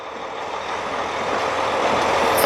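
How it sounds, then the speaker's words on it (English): Two trucks maneuver in a dark, cold container yard to drop containers. Their engines make a loud, steady diesel rumble that swells slightly toward the end, with a faint high tone at the close. "Got 2 trucks ahead of me. Look like they about to drop some containers in the yard."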